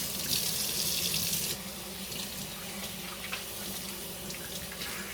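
Tap water runs steadily into a kitchen sink while raw chicken is rinsed under it, a loud broadband rush that softens slightly partway through and continues with small splashes and no talk.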